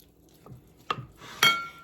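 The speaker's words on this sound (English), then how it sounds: "Then just spread it out in your pan here." Fudge being spread and smoothed in a pan, heard as a few soft scrapes and a clink of a utensil against the pan, quiet and brief with no talking.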